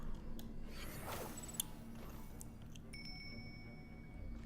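A small bell chimes in the Genshin Impact video game, a bright metallic ping over soft game ambience, followed by a thin sustained ringing tone.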